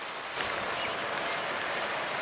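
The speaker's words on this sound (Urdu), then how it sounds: "اس وقت بھی بارش ہو رہی ہے" Steady rain falling outdoors at the early onset of monsoon, a constant dense hiss of drops on surfaces, moderately loud and unbroken, with no voices.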